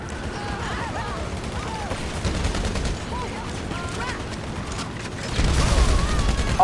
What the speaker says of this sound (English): that was a well-placed grenade